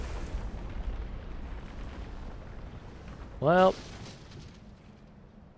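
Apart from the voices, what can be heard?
dam collapsing in the video game Outer Wilds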